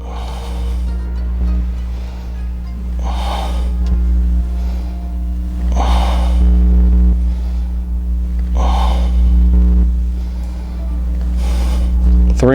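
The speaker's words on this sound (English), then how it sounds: "Exhale as you come back and inhale." Breathing during lower body exercise: a few audible exhales and inhales recur at steady intervals, close to the microphone, over a constant low background hum.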